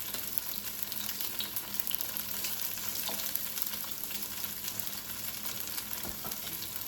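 A second batch of food fries in oil in a pan, giving a steady, dense sizzle that stays loud and even throughout with faint scraping as it is stirred, and no talking.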